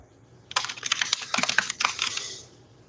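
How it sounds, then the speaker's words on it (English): A burst of fast typing on a computer keyboard: dense clusters of sharp key clicks that start abruptly, run for about two seconds, then trail off, close and clear, with no voices. "typing like a fiend. Andrew, are you typing?"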